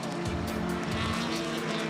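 Caltex Ford Sierra touring race car, number 4, racing at Oran Park, its engine roaring loud and close with a steady drone, tyre squeal and low rumbles running throughout.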